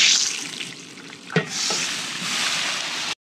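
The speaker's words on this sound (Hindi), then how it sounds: "अब ये जा रहा है इसमें प्याज जाएगा।" Onions fry in oil in a pot for a rustic mutton dish, giving a steady close sizzle with a brief clatter of stirring partway through.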